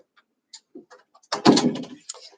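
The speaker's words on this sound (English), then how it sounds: "Go ahead and let me shut the door so you can't hear things" A door shut at home, heard as a firm, close thud with a brief rattle that fades over about half a second, after a few small handling knocks.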